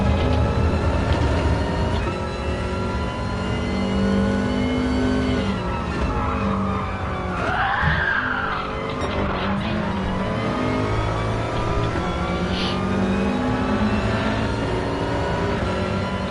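Race car engine in Gran Turismo on the Brands Hatch circuit, a Group 4 car, droning loudly and steadily throughout with rising and falling revs as it changes gear, with no talk over it.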